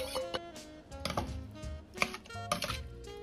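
A spoon tosses sliced vegetarian chicken (su ji) and cucumber in an oyster-sauce dressing in a bowl, making quiet, irregular clinks and soft wet scrapes close by, with no talking.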